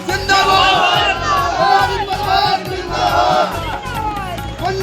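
A crowd of the Tiwari family in Amanganj shouts in protest, loud overlapping voices chanting and yelling together in sustained bursts, close and dense throughout.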